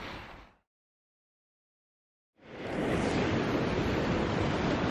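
Ocean waves wash over coastal tide pools near Newport, a loud steady roar of surf that cuts out briefly and then swells back in, full and close.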